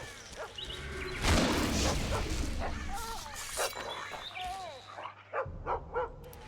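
A dog in The Witcher 2 barks and yips in a run of sharp, close calls, with whimpering notes mixed in over ambient game sound.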